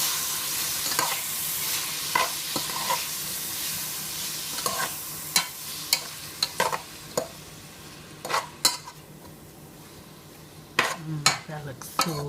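Food stirred in a frying pan while cooking a home meal of rice, pink beans, chicken cutlets and green beans, a constant frying sizzle punctuated by irregular sharp scrapes and clinks of the utensil against the pan.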